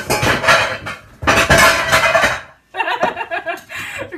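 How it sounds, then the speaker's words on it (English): Pots, pans and kitchenware clatter and bang as they tumble out of a crowded kitchen cupboard, two loud bursts of clanging metal followed by a lighter, scattered rattle of settling dishes, close by. "you can hear everything falling out of my cupboards"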